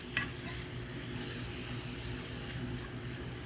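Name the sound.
jackfruit being tossed in a pan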